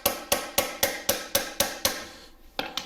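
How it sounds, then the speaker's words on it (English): Hammer taps a part into a Segway X260 electric off-road bike during a belt replacement: eight sharp, evenly spaced metallic blows close by, then a brief pause and two quicker strikes. "I'm going to just tap it in to make sure it's in all the way."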